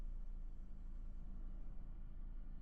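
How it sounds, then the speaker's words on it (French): A black car passes a T-intersection, a steady low road rumble close by that holds evenly throughout with no voices. "je maintiens bien le frein pendant que le véhicule noir passe"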